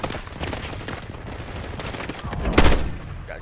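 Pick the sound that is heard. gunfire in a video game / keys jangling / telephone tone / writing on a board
gunfire in a video game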